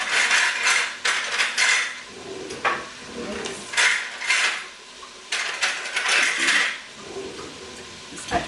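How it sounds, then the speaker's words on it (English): Metal spoons jangling and clinking as they are grabbed from a kitchen drawer, in several bursts of bright rattling separated by short pauses. "Just had to grab out a few spoons here"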